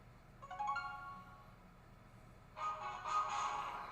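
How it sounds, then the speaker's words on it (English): Clash of Clans mobile game loading on a phone gives a faint tonal jingle in two bursts, one short phrase early and a louder, fuller one near the end, over a quiet room background. "Never mind my Clash of Clans, that wants to load up right away"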